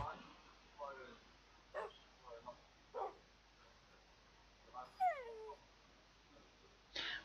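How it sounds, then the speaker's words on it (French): Dogs in the Minecraft video game give several short whimpers and yips at intervals, fairly faint over a quiet background. "les chiens se calme"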